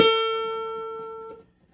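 A single guitar note, the A at the 14th fret of the third string, rings out clearly and decays slowly before being muted after about a second and a half, with no talking over it.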